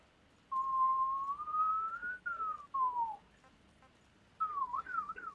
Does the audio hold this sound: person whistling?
yes